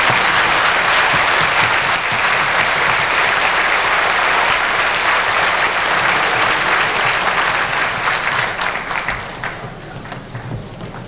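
A crowd in a high school auditorium applauds graduates at a 1993 graduation ceremony, with dense sustained clapping that holds loud for most of the stretch before thinning out toward the end.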